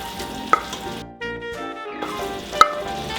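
Sausages reheating in a pan of tomato sauce for spicy Italian sausage pasta make a soft, uneven sizzle and bubbling, with two sharp utensil clicks against the pan and faint musical tones underneath.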